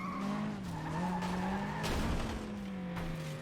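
A car fishtails and skids across a shopping mall floor in the racing game FlatOut 2. A loud engine drone holds steady, with tire squeal sliding over it, and there is no talk.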